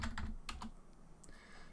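Someone types an ipconfig command on a computer keyboard at a command prompt, a short run of a few close, quiet key clicks in an irregular rhythm, with no talk over them.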